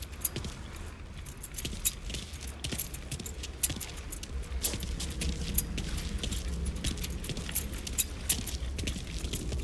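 Car keys jangle and clink in Mafia 3, a busy metallic rattling of small sharp jingles that runs steadily for several seconds, close up with a low rumble underneath and no voices.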